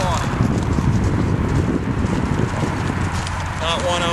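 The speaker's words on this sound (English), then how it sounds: "This little horse can jump. He's got really nice form. He's got beautiful movement." A dun Mustang gelding wearing a cinched saddle moves in Colorado. His hooves clop loudly and fairly close under steady wind noise, with a voice talking over them.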